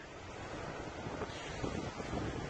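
Wind at the sea off Weston buffets a camcorder microphone in a constant, loud roaring rush of broadband noise with slight surges, steady throughout and with no talking.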